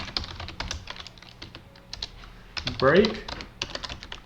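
Quick, irregular keystrokes on a computer keyboard as code is typed in a Unity class-system setup, clicking steadily up close beneath a man's intermittent speech.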